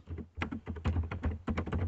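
Quick, uneven typing on a computer keyboard, with close, crisp key taps in a dense run and some heavier thunks mixed in.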